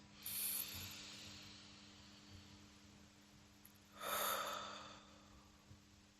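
A group of people draw a soft, audible breath together before reciting communal prayers, a hushed airy inhale near the start and a fuller, louder breath around two-thirds through, with quiet room tone between and no talking.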